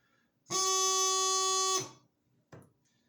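A single sustained F note on a bagpipe practice chanter, a bright reedy tone held steadily for over a second before cutting off, followed by a brief faint noise.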